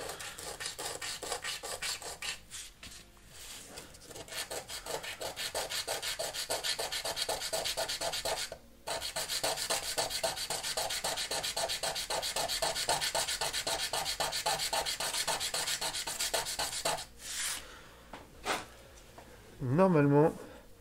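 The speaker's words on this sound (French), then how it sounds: "ASMR ponçage." Hand sanding of a laser-cut robot arm part, steady close scraping and rubbing strokes running almost continuously with a few brief pauses, ending with a short burst of different, more tonal sound.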